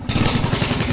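A small engine on a foam boat revs up close by, its steady, loud chugging pulsing rapidly throughout with a faint metallic clatter.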